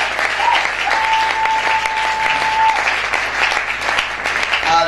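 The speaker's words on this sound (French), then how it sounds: "on va acclamer fortement pour le Seigneur" A church congregation applauding loudly and continuously, dense clapping from many hands filling the room, with a sustained tone and voices faintly beneath.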